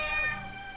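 A cat meows once in the PS4 game Echoes of the Fey, a short, clear, tonal mew over a faint background hum.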